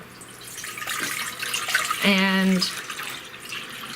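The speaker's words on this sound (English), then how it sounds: "I put the water in the pot" Water is poured into a cooking pot for wild rice, a close splashing, trickling flow under a brief spoken word, with a short tonal hum near the middle.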